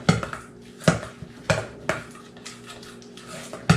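Deviled egg filling with mustard is stirred in a bowl, with a spoon clinking and scraping against the dish in repeated, regularly spaced strokes, close up and without talking.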